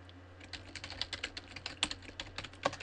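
Someone types on a computer keyboard at a steady pace, the keystrokes coming as crisp, close clicks with a few heavier taps, over a low background hum.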